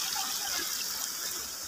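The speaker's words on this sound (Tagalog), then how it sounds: "ito ang tinatawag nating hot spring. So ginawa nila ng pool." Water in a hot spring pool rushes and trickles in a constant, fairly faint wash of splashing noise, steady throughout with no other sounds standing out.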